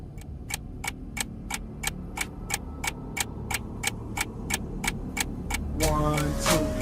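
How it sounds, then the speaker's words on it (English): A clock ticking in a steady, evenly spaced rhythm of sharp clicks, about three per second, close and clear over a low rumbling background, with a brief swell of other sound near the end. "you hear the clock ticking, tick, tock"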